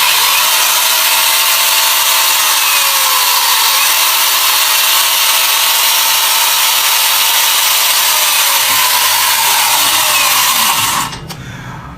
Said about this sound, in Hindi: मैं आपके सामने इस चेनसॉ अटैचमेंट को चला के दिखाता हूं